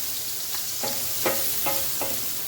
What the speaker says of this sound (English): let me cook these mushrooms